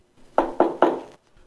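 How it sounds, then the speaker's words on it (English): Three firm knocks on an office door, evenly spaced and close, followed by quiet. "Then there was a knock on the office door."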